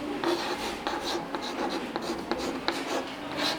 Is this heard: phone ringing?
no